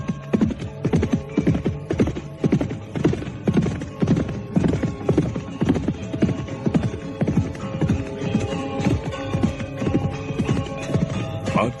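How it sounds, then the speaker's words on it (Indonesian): Horses gallop fast with steady, rapid hoof beats that sound close and loud and carry on throughout. "Badrawati dan Lare Angon memacu kudanya pula dengan cepat."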